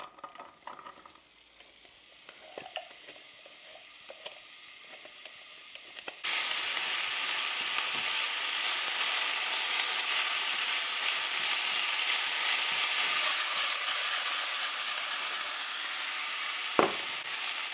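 Olive oil hits a hot pan for a tomato sauce and jumps to a loud, continuous hissing sizzle, following a quieter stretch of faint kitchen clatter, with one sharp knock near the end.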